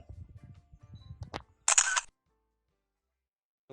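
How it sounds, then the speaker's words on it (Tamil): A single crisp camera shutter snap taking a photo at ISO 5000, brief and close, following some faint handling noise and then silence. "ஃபோட்டோ எடுக்கிறேன்"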